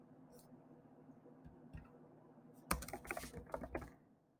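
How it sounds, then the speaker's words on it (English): Typing on a computer keyboard: scattered soft key taps give way to a quick, dense burst of clicking, close and fairly quiet with no talk. "We're going to type all that information."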